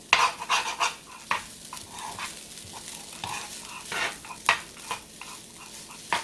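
Vegan fried rice with soy sauce cooking in a pan, a soft sizzle under repeated scraping and stirring strokes of a utensil against the pan, close and irregular.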